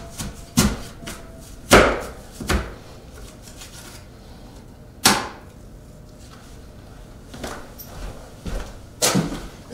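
Coring a peeled apple for a cobbler produces a handful of sharp, separate cutting knocks spaced irregularly across the stretch, with quieter handling noise between them and no talking.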